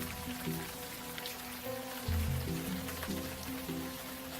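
Rain falls steadily in the video game Unavowed, a constant close hiss and patter under a low, tonal musical backdrop with no voices.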